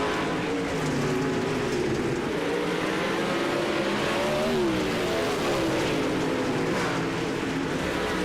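A race car in a sim racing game roars continuously at close range, its engine note rising and falling through corners and along the backstretch of a dirt oval at Huset's Speedway, with no voices over it.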